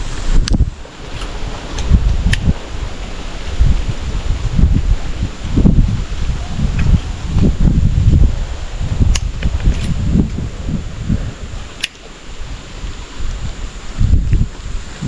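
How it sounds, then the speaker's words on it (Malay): Wind blowing outdoors in a forest, strong gusting buffets against the microphone rising and falling in uneven waves, with faint rustling and occasional small clicks. "Sedap angin."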